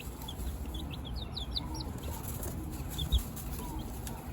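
Baby chicks peep in their bin, with a series of rapid high chirps coming in clusters over steady low room noise and a soft bump near the end.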